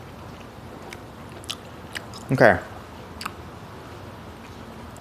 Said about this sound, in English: me chewing something as I'm reading